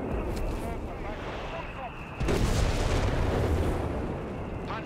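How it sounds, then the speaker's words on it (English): Howitzer artillery fire in Company of Heroes 3 on the Faymonville Approach map, booming and rumbling under a continuous battle din, with one heavier blast about halfway through and a voice talking over it. "the free fire drills here, which of course allows the howitzer to fire targets that get within a certain range of it"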